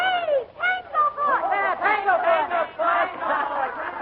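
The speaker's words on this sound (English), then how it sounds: "Tanglefoot, she said, and the crowd took it up like a battle cry." A baseball crowd in a radio drama takes up the chant "Tanglefoot" like a battle cry, voices rising and falling in rhythmic, overlapping shouts, loud and close throughout.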